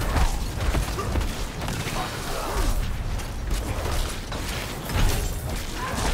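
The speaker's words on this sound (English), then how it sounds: "Okay, now the door is open." A door grinds open in Diablo 4, a dark fantasy action game; creaking, ratcheting mechanism noise churns continuously at a steady loudness, with occasional heavier clunks and swells.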